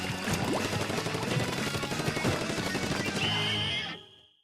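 Rapid shooting in the ink-splatting game Splatoon, dense repeated firing bursts over game music that cut off abruptly near the end.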